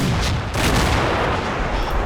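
Churchill tank firing in Combat Mission: Battle for Normandy, a heavy gun boom in a dense wall of battle noise, with a second sharp report about halfway through and sustained rumble, loud and continuous with no talk.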